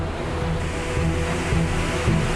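Ocean waves and storm surge churn during Hurricane Fran on the North Carolina coast, a steady dense roar of surf with buffeting wind noise and low rumbling swells throughout.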